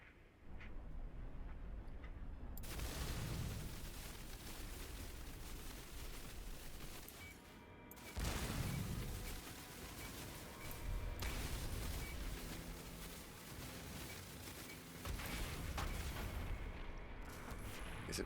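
Massive roaring blasts of a spaceship exploding in No Man's Sky, long loud broadband rumbles with sudden onsets, dropping briefly and surging again in repeated waves.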